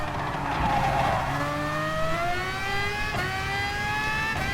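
Race car in the FIA Nations series at the Sardegna track, engine note dropping in steps as it downshifts through gears, then climbing again, loud and steady throughout with brief tire squeal.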